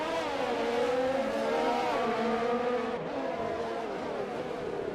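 Formula 1 race cars at the Singapore Grand Prix in the F1 2020 video game, a continuous high engine whine with shifting pitch as the cars accelerate and run together, steady and loud.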